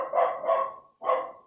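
A pet dog barks at home in three sharp, close, loud woofs, two in quick succession and a third after a short pause.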